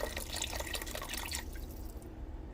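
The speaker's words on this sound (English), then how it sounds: "Now we are going to go ahead now and add the chicken broth" Chicken broth pours into a cooking pot for American-style goulash, a steady liquid splash with dripping for about a second and a half before it thins into quieter background noise.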